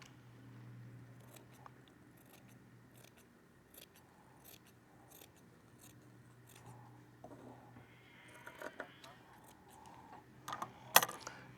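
Scissors cutting DustGUARD air filter material for an Airstream AC unit, a series of quiet close snips and crisp crunching cuts in an uneven rhythm, getting louder toward the end.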